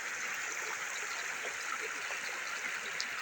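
Floodwater rushing fast across a flooded region, a steady broadband roar of flowing water that holds constant throughout, fairly close and alone with no voices over it.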